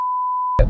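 A steady high-pitched censor tone holds for about half a second, then cuts off abruptly into a burst of broadband noise.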